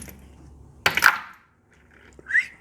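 A .45 Colt cartridge loaded with a cast 212-grain hollow-point bullet in Remington Peters brass is dropped into a case gauge. It lands with a single sharp metallic plunk and a short ring, followed by a faint clink. No voices are heard.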